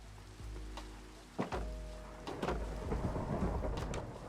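Rolling thunder rumbles loud and low beside a heavy, steady rain of a thunderstorm, with sharp cracks near the middle and the deep roar continuing to the end.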